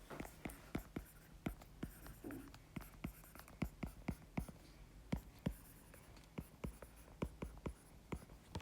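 Chalk or marker strokes on a board during a math lecture on differentiation: a long series of sharp taps and short scrapes in an irregular rhythm, close and quiet, with faint whispery voice sounds underneath.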